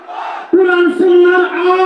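A crowd roars a sustained, chant-like shout in unison at a religious sermon gathering, answering a takbir call; the loud, tonal cry swells twice in quick succession.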